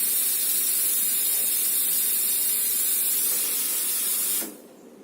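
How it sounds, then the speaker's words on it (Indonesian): An espresso machine steam wand blasts a steady, forceful hiss of steam for several seconds, then cuts off abruptly, leaving near silence. "ini cuma udara uap aja nggak panas"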